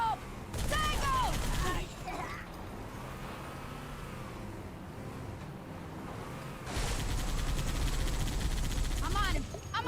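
Halo 2 gameplay with bursts of automatic gunfire and explosive blasts at the start and again near the end, a quieter rumbling stretch between, and excited players' voices over the action.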